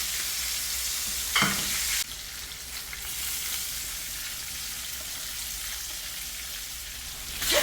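A large fish fries in a pan of hot oil, giving a steady loud sizzle that briefly spikes twice as the fish is moved or turned, with no talking.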